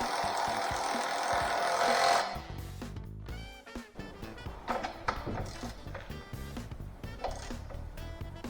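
Nuts being run onto the rear suspension anti-roll bar drop links of a BMW X5: a loud burst of a power tool whirring, then ratcheting clicks and metallic clanks of tools and parts, close by.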